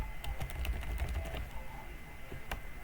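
Fingers type on a computer keyboard in quick, close clusters of clicking keystrokes that slow and thin out toward the end, with a faint hum behind them.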